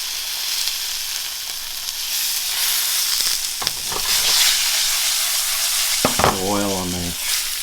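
Crispy-skinned meat frying in a pan, a loud continuous sizzle with bursts of spitting and a scrape of the pan partway through, no voices.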